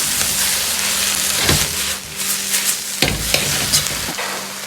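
Scallions stir-fried over moderate heat with soy sauce and cooking wine, producing a dense, continuous sizzle with periodic scraping and stirring strokes of a spatula in a wok, close and loud.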